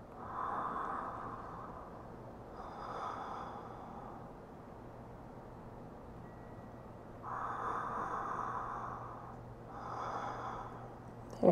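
Deep, slow yoga breathing during a morning yin yoga session: four long, soft breaths spaced a few seconds apart, close and breathy, with quiet pauses between them and a room hum underneath.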